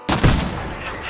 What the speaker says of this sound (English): You can kill birds with the explosion from the explosive ammo.